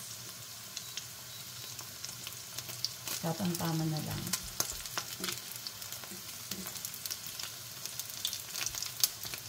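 A dilis (anchovy) omelette fries in a pan with a steady close sizzle, a brief louder crackle partway through, while a person talks over it.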